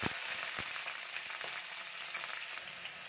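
Washed potatoes fry in coconut oil in a pan, giving a steady close, dense sizzle with scattered crackles and pops throughout.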